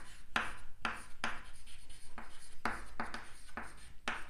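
Pen writing out an answer to a Class 10 electricity exercise: repeated scratchy strokes in quick bursts with short pauses, close and fairly loud, with a brief word of speech.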